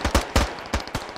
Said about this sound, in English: We don't want to check fire because they're still shooting at us